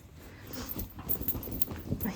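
A dog moves nearby, shuffling, with faint whimpering or snuffling sounds and a few soft taps of paws, close and fairly quiet, with no talk over it.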